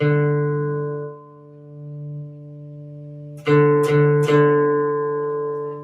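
Sustained plucked guitar D string with a low, steady ringing tone that decays, then a few more quick plucks near the end that ring out clearly.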